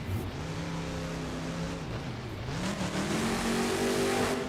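A monster truck engine in the BeamNG.drive video game, staged at a Monster Jam arena show in the Tacoma Dome, revs steadily at full throttle, its droning pitch dipping briefly and then climbing higher as it keeps roaring.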